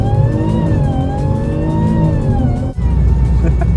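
A supercharged BMW E46 330 Ci with a swapped ZF 8HP gearbox accelerates hard, its engine note loud and close, climbing steadily before a quick dip at a gear change and pulling on again.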